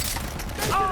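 A suppressed A2000 rifle fires once in Far Cry 3, a muted, dull thump followed by a short metallic tail, heard at moderate loudness without talk over it.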